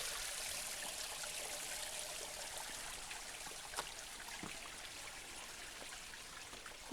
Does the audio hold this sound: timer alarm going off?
no